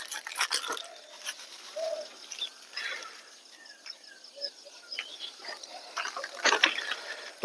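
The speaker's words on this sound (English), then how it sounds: "Okay, birds, come." Birds gathering outdoors to be fed biscuits: scattered chirps and short calls come and go at low level, with light rustling and a few sharp clicks in between.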